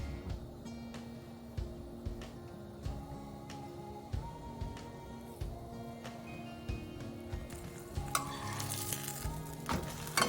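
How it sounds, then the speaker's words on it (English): Ground beef quesadillas with melting cheese and tortillas frying in a pan, giving a steady close sizzle broken by scattered clicks and scrapes of a utensil against the pan, with no talk. "Cook the quesadillas until the cheese is melted and the tortillas are golden brown"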